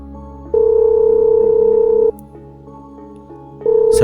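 A phone line tone sounds while calling a number from a mobile, steady beeps in long and short bursts with pauses between, loud and alone.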